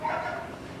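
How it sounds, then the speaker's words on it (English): A single short dog bark or yip, played back as a sound effect for a scale model train layout, fairly loud and alone without talk. "Dog barks, fantastic for keying off."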